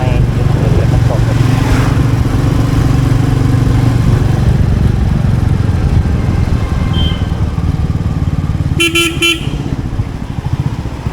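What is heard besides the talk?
Royal Enfield Meteor motorcycle engine while riding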